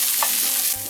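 Potatoes fry in butter in a pan for breakfast burritos, giving a steady, close sizzle with a brief stirring scrape and no voices.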